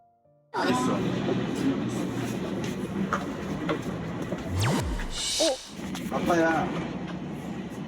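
Interior of a train heading to the airport, a steady loud rumble of the moving carriage with a brief whooshing sweep midway, while people speak over it.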